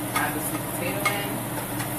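A spoon stirs sweet potato and kale frying in a hot pan, giving a continuous sizzle with scraping strokes of the utensil over it.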